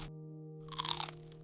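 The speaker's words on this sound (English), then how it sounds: "It crunches like a chip." Crispy, warm lettuce-wrapped food bitten once up close, a short crackly crunch with a few quick chewing crackles, over a faint background hum, no talking.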